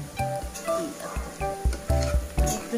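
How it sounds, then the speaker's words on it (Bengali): Potatoes frying in a pan in a home kitchen during cooking, with soft sizzling and intermittent stirring clatter under occasional nearby voices. "এই দেখো আলু ভাজা হচ্ছে"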